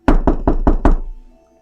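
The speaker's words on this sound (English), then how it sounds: "You guys hear a knock on the door." Five firm, evenly spaced knocks on a door, loud and close, followed by a short fading resonance and quiet background.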